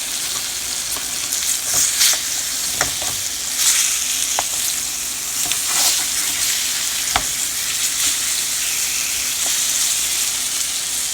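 Smothered southern pork chops fry in a hot pan as they are flipped, giving a steady, close sizzle and crackle with sharp spatters and a few clanks of the turning utensil, with no voices.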